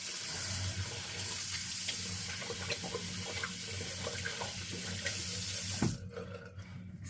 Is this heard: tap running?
yes